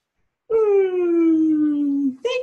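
A dog lets out a single drawn-out whimpering howl, a clear tonal wail held for about a second and a half, close, then a short second whine starts.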